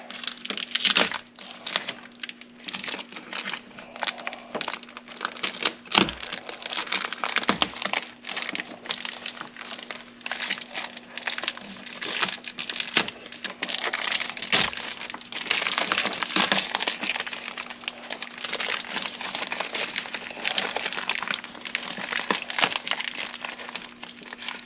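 Close crinkling and crackling of a taped plastic vapor sheet being handled inside a Saturn Ion car door panel, with scattered sharp snaps and rustles over a steady low hum.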